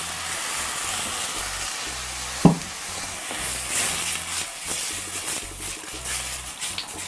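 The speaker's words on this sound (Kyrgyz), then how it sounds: "Бир аз куурулгандан кийин үстүнө томатный сок куюлат." Food frying in a pan with tomato juice poured over it sizzles with a steady broad hiss, one brief sharp clatter early on and soft stirring scrapes through the rest.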